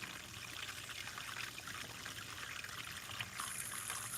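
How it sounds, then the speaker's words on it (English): Water pours steadily into a gold-panning sluice, a continuous trickling, splashing stream at close range with no voices. "I hate pouring water in my sluice"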